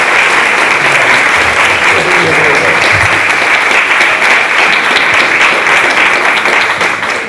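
Audience applause welcoming speakers Rob Capuzzo and David Gregory at a Page to Stage event, dense sustained clapping from a crowd filling the room, loud and continuous before tapering slightly at the end.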